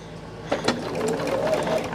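A sewing machine stitches binding onto fabric at a 3/8 inch seam, a steady mechanical whir starting after a brief pause and a couple of soft knocks, running close and continuous.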